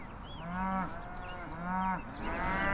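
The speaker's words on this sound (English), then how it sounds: "I have a cow that's not feeling well" A sick dairy cow that cannot get up moos three times in long, low, drawn-out calls. Each call sounds fairly close and strained, and no one speaks.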